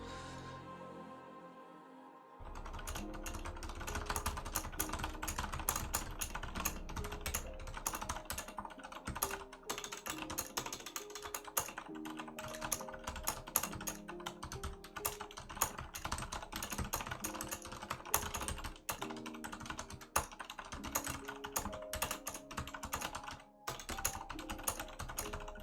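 Fast, continuous typing on a computer keyboard during a typing race: a dense, unbroken stream of rapid key clicks, close and steady for the whole stretch after a short quiet start, with no talking.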